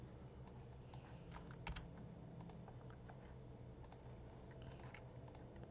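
Computer keyboard typing of a folder path, a run of light scattered key clicks with uneven rhythm over a quiet room hum, close and soft.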